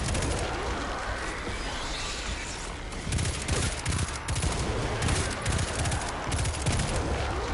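Pulse rifle gunfire in Destiny 2, loud rapid bursts of repeated shots that fire continuously over dense game ambience, growing heavier and more rhythmic midway.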